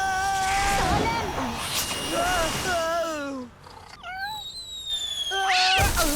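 Several high, wavering cat meows rise and fall in quick succession, loud and close, with a short lull before a final burst of meowing.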